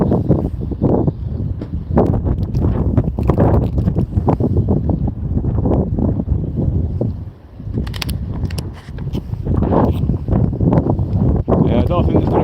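Wind buffeting a microphone on the bank of the River Mersey, loud rumbling gusts almost constant with brief lulls, while people talk throughout.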